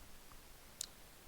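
A single faint computer mouse click, short and crisp, standing alone against a quiet background.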